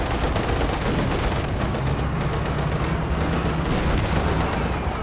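Dense, continuous gunfire from machine guns and artillery in the video game Company of Heroes 2, rapid overlapping shots and blasts held loud throughout with no pauses.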